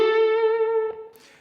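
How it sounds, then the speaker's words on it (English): Electric guitar with a distorted blues tone holds a sustained note on the G string after sliding up to the 14th fret, ringing alone and close before a brief pick noise near the end. "So we start by sliding up to the 5th on the 14th fret of the G string."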